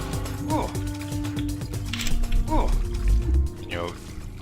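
Swimming through ocean water in the Deus Ex game, with splashy liquid strokes and bubbling gurgles that repeat every couple of seconds while someone talks over them.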